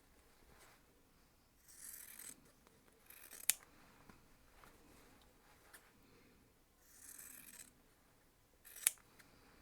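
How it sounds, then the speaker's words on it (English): Scissors snipping small fabric triangles for a quilt block, several short soft cutting bursts spaced a few seconds apart with sharp clicks of the blades closing, close and quiet with no talking. "Make sure when you're cutting, you're only cutting a little triangle off."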